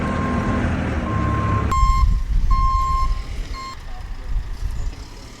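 A heavy vehicle in a steel forge, driven in forward and reverse, its engine rumbling low and loud while a shrill reversing beeper sounds in regular repeated pulses, then the beeping fades as the engine keeps droning.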